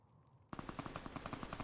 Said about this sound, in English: And somebody's still shooting